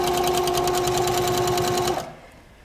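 A Pfaff Powerquilter sewing machine stitching back and forth in loops and sharp points, a loud, fast, steady mechanical whir with a rapid needle rhythm, running continuously for about two seconds before stopping abruptly.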